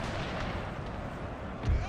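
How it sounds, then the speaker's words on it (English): A volley from arquebusiers in a Total War game set in the Thirty Years' War, fired at medium pikemen, sounds as a dense continuous crackle of gunfire, loud and close, swelling into a heavier thump near the end. "Let's see if the arquebusiers can set up and fire into the medium pikemen"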